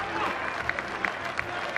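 Spectators at a baseball game applaud in a broad, steady wash of clapping from a big crowd, some distance off, with a commentator talking over it.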